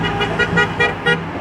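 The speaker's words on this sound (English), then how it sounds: "With the honking?" Car horns honk repeatedly in short bursts, about five toots in quick succession, over steady roadway traffic noise at a street protest outside a Tesla dealership in Albuquerque.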